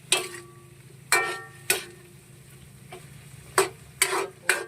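A utensil stirs pancit ingredients with added bouillon cubes in a pan on a home stove, giving several sharp, close scraping clicks at irregular intervals over a faint background hum.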